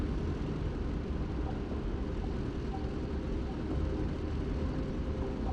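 A P-47 D30 Thunderbolt radial engine warms up in the DCS flight simulator, giving a steady, loud, low rumbling drone that holds unchanged throughout with no talk over it.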